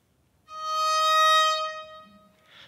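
A violin's top string, tuned down a half step to E flat, sounds one bright, sustained bowed note that swells and fades over about two seconds, alone and close.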